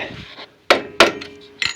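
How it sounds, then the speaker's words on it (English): Hammer blows on a flathead screwdriver against the arm of a rear drum brake on a 1980s–90s Ford 3/4–1 ton truck with a Sterling axle: sharp metallic strikes, close and loud, irregularly spaced. "I'm just going to use my hammer"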